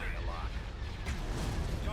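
Space battle weapon fire in Star Wars Thrawn's Revenge rumbles as dense, continuous booming and crackling blasts, loud and steady for the whole stretch, with no pauses.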